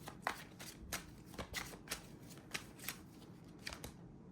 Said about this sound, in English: Let me get you some self-care cards here